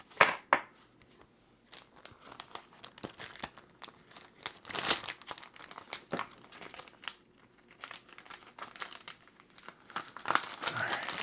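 A paper craft pack crinkles and rustles as it is handled, with scattered crisp crackles and soft rubbing sounds coming close and fairly quiet throughout.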